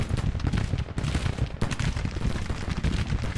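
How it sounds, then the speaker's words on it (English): Massed rifle fire from a Civil War battle in the Grand Tactician strategy game: a dense, unbroken crackle of overlapping shots and volleys, loud and continuous throughout, with no talking. "Yeah, they've been firing for quite a while."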